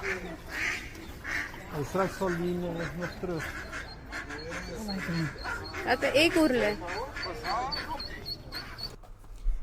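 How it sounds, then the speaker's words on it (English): Mother duck and baby ducklings at a pond: quacking and peeping calls mixed with voices talking over them throughout, close and fairly loud. "he's picking up little baby duckies that fell into the pond and trying to get them to their mama"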